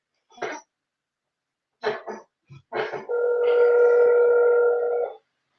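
A telephone being dialed: a few short coughs or throat clears, then a steady, loud two-tone dialing tone holding for about two seconds before cutting off.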